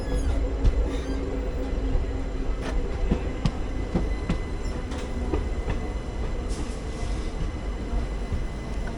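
A Kulayam–Vasco passenger train at a station where a WDG4D locomotive stands, giving a steady loud rumble of rolling stock with scattered metallic clicks and knocks of wheels over rail joints throughout.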